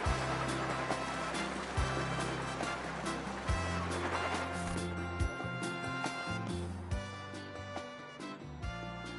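Ocean waves and splashing water while surfing in the video game Genshin Impact, a continuous loud wash of surf with rhythmic bumps and whooshes, layered over game music, no speech.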